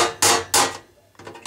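A Craftsman screwdriver strikes and pries at an electronics lid, making two sharp, loud metallic knocks followed by a quieter rattling tap, close by.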